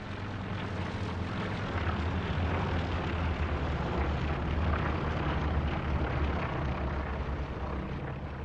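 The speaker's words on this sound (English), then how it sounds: "Recon plane going over." A recon plane passes overhead in a video game, a steady broad engine drone holding loud and continuous throughout with no talk over it.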